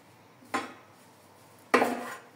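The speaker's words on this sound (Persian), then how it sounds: "جعفریمون رو خرد میکنیم." Knife chopping parsley on a board while preparing a marinade for chicken drumsticks, two separate sharp chops about a second apart, each with a short rattling decay, close but fairly quiet.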